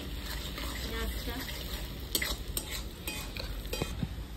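Onions browning in a pan over a wood fire sizzle steadily, with clinks and scrapes from stirring in the second half.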